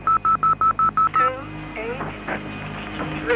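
Eight short, evenly spaced touch-tone beeps from a public phone box keypad, loud and close, followed by faint street noise and murmuring voices.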